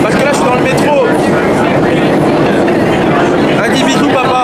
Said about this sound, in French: là je suis dans le métro